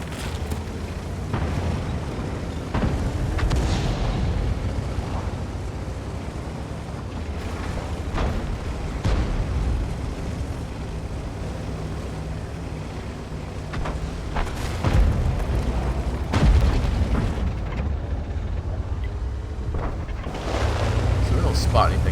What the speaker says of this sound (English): artillery has done a lot of work lately for the enemy team there